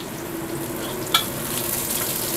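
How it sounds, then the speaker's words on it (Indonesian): Garlic sautéing in a frying pan, a steady low sizzle throughout with one brief sharp crackle or clink partway through; no voices. "Kemudian saya tumis bawang putih ya."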